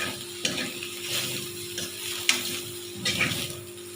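Eggplant fries in oil with a steady sizzle, and a utensil makes occasional scrapes and clinks while a faint constant hum sounds in the background.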